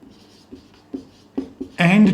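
Chalk or marker strokes on a board during a chemistry lesson, a series of short scratchy taps and scrapes at irregular intervals, close by, ending as a voice starts speaking.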